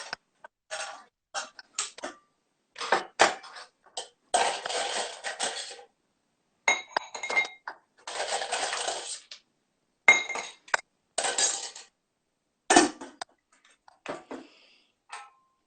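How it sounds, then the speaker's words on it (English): Ice cubes dropped and scooped into a metal tin or glass, with bursts of clinking, rattling and crunching separated by short pauses, close and fairly loud, no talk. "So we need to fill this tin or your glass with ice."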